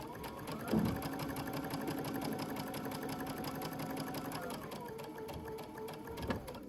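A sewing machine runs steadily and close up for several seconds as it stitches a fabric strip for a doll. It makes a fast, even mechanical whir, with a brief clunk near the start and another near the end.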